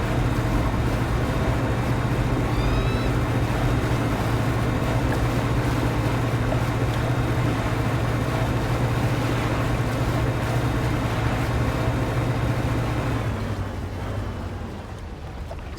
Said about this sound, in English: We will sail to the top.